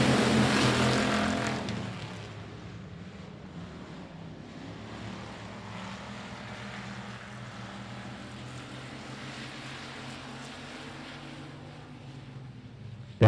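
Texas dirt trucks roar off at the start of a heat race at I-37 Speedway, a loud engine blare swelling at first and then settling into a steady, distant drone of the pack circling the dirt track.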